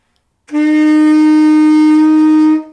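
A single sustained tenor saxophone F note, steady and loud, held for about two seconds with no other sounds.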